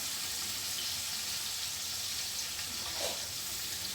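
Ackee is added a little at a time to saltfish sizzling in a pan, giving a steady broad hiss of frying with a slight extra crackle partway through.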